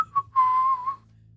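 A person whistles a short tune, imitating a character whistling down a hallway: a quick chirp followed by a longer sustained clear whistle that fades out, alone and close.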